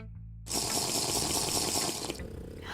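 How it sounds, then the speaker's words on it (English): Steady rushing of water, loud and close, starting abruptly and running continuously like a tap or pour, then dropping to a softer trickle near the end; no talking. "I need a sip of water."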